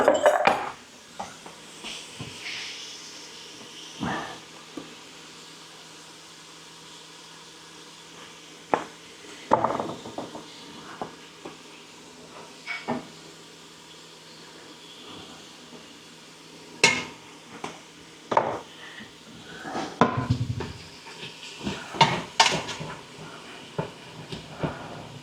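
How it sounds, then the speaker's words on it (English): Ground beef and onions brown in a pot with salt and pepper, heard as sparse metal clatters and utensil scrapes against the pot, irregular and fairly close, over a quiet steady background hiss. "we're going to brown this meat off. I'm going to add my onions to it right now."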